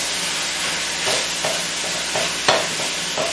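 Ground beef fries in a pan for lasagna, a steady close sizzle broken by repeated scraping stirs of a spatula roughly every half second, with no talking.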